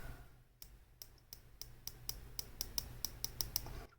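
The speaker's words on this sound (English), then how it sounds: "It's a 120 click unidirectional bezel" A San Martin SN0121 dive watch's 120-click unidirectional bezel being turned, giving a series of crisp, close clicks that start sparse and speed into a quicker, fairly even run, with no talking.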